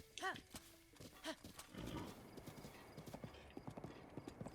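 Horse hooves clip-clopping in Zelda: Breath of the Wild, with a brief whinny at the start followed by a steady run of rhythmic hoof clops; someone talks faintly under it.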